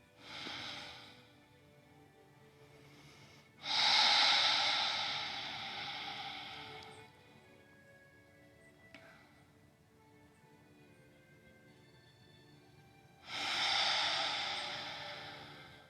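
Slow, deep breaths from a person holding a yoga hip stretch: two long, loud exhalations several seconds apart, with quieter breathing and a soft sniff in between, in a calm, quiet room.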